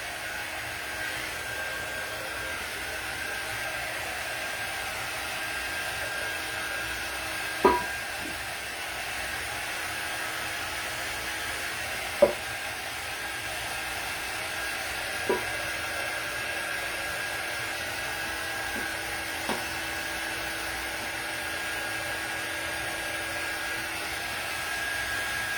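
A hair dryer blows a steady whooshing roar over a coat of paint on a tin can, running continuously with only a few faint clicks and taps.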